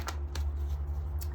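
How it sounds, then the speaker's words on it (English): Tarot cards are shuffled in a few short, soft riffling bursts over a steady low hum, with no one speaking. "I'm going to just shuffle a bit more here"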